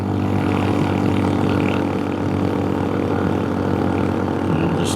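A scooter engine holds a steady, loud drone at less than full throttle in second gear while climbing through the Rocky Mountains, with a constant roar and rushing wind noise and no breaks for the whole stretch.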